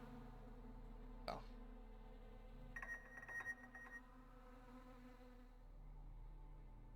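Insect buzzing in the video game The Secret World: a faint high, thin whine flickers in a short burst in the middle over a low game ambience drone, with a single sharp click earlier.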